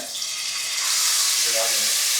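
Onions frying in hot ghee for Hyderabadi chicken dum biryani, giving a loud, steady hiss that holds without a break from start to finish.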